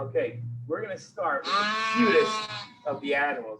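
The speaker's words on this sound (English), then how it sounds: "These are little tiny sheep. They're all under a year old." Young lambs under a year old bleat on a farm, one long wavering cry loud and close between stretches of a person talking.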